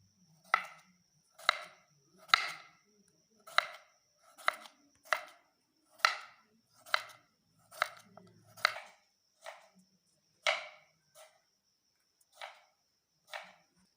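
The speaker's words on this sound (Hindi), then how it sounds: "अभी खीरा कटिंग करेंगे बिल्कुल बारीक बारीक।" Cucumber is finely chopped with a knife on a board, a dozen or so distinct crisp knocks at an uneven, unhurried rhythm, close and clear against a quiet background.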